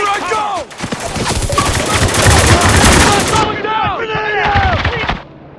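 Dense automatic gunfire and rapid weapon bursts in the Xbox 360 shooter Spec Ops: The Line, loud and sustained for several seconds, with shouted voices and ringing tones mixed in before a sudden cutoff.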